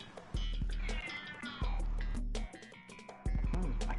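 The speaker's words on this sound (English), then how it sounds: "What's my cat doing? What are you doing? Sitting in the hallway screaming her head off." A house cat sitting in a hallway yowls loudly, long drawn-out wailing cries in several bursts with short gaps between them, close and piercing, with no talking over it.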